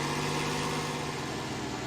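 A tractor fitted with silage wheels compacts a silage heap in a farming game, its engine a steady, loud droning rumble that holds an even pitch throughout with no talk.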